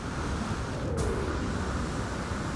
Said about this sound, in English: Nice gravity storm.